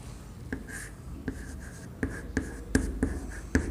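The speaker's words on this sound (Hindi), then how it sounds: "चलो तो इसी को उत्तर को हम बोर्ड पे लिखते हैं" Chalk or a marker taps and strokes against a classroom board in a series of sharp, regularly spaced hits over a faint background hiss. Each stroke is close and moderately loud.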